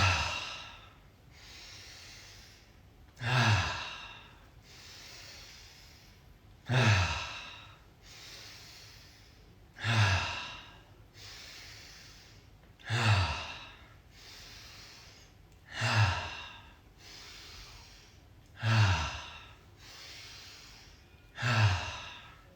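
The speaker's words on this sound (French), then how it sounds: "10 grandes inspirations par le nez, 10 grandes expirations par la bouche" Deep, steady breathing during a morning stretching routine: about eight slow cycles, each a quieter inhale through the nose and then a loud, rushing exhale through the mouth, evenly spaced, close, with no talking.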